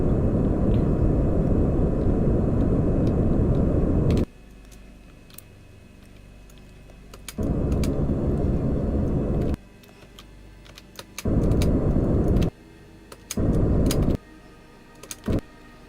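Lander rocket engine thrust in Kerbal Space Program during a descent to the Mun, a loud broadband roar fired in bursts of a few seconds with quieter gaps between, alone without talk.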